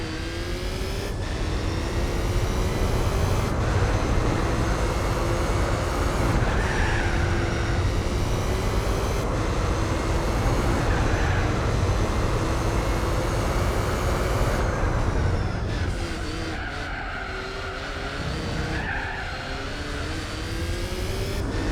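A race car's engine in Gran Turismo 4 holds a steady, loud drone at high revs through a lap, dipping briefly near the end as it comes off the throttle and then builds again. No one talks.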